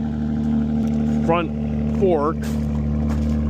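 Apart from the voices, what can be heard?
tractor engine running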